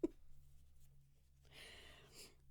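Keyboard typing, a soft steady patter of light key clicks, faint and continuous over a low steady hum before a brief burst of background noise.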